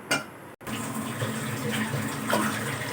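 Water gushes steadily from a glass into a pot of soaked rice for tarka chawal, a close, continuous pouring rush after a short initial splash and a momentary break.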